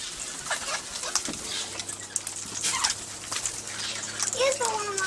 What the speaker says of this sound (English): Here's the one with The male and female king parrot